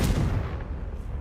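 A Confringo fire spell blast in Hogwarts Legacy: one short, loud booming burst at the start that quickly decays into a low rumbling tail.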